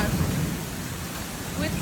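An Australian hailstorm brings a thunderstorm with a dense, steady roar of heavy rain and low rumbling thunder, loud and unbroken throughout.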